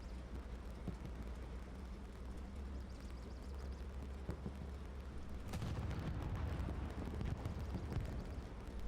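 A tank blows up in the tank-only war game Hell Let Loose, a distant muffled boom followed by a rumbling burst and crackling debris over low engine drone, no voices.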